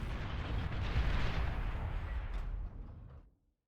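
Bombs exploding in the Beyond All Reason strategy game, a dense rumbling barrage of blasts that holds loud for a few seconds, then thins and fades to silence.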